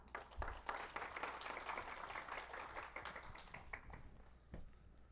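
Audience applause welcoming speaker Ryan Measel to the stage at the Data Con LA 2018 conference, a steady wash of many hands clapping that swells early and gradually thins out toward the end.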